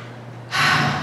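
A single deep breath drawn in through the nose during a guided breathing exercise, then released as a loud, rushing exhale that fills the rest of the moment.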